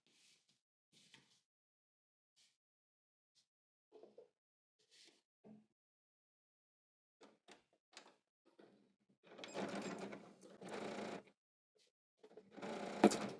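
Short whirring bursts of a sewing machine stitching a skirt side seam, faint at first and then two louder runs near the end, with scattered soft clicks and handling noises between.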